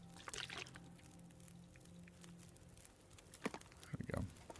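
Water dropped from the inventory in the survival video game The Long Dark makes brief sloshing, pouring bursts near the start and again toward the end, fairly quiet and close, with a faint voice murmuring near the end.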